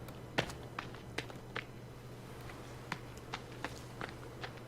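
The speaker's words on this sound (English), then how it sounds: "The leaves sound like, you know, little footsteps." Soft rustling footsteps crunch through leaves in The Forest video game, a dozen or so irregular steps at moderate distance over a steady low hum.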